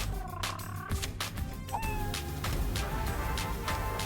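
A pet cat in the Fallout Shelter game lets out a few short meows amid busy game music and sound effects.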